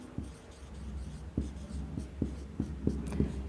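A line being drawn for a geometry construction, with pen or pencil strokes scratching on paper in several short, close taps and scrapes at an irregular pace and no voices.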